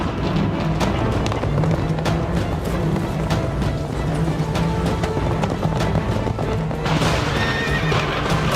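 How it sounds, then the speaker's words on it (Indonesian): Horses at a horse race in Sumba, West Sumba: continuous dense clatter of hooves and neighing with crowd bustle, loud and close throughout, without a break. "Nah ini pacuan kuda, di sana berkeliaran banyak kuda."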